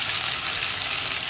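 Crushed onion mixed with dried red chilies hitting hot oil in a pan over a low flame, a loud, dense, continuous sizzle and crackle close up, with no voices.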